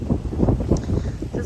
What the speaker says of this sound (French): C'est sûr que c'est quand même assez souvent venteux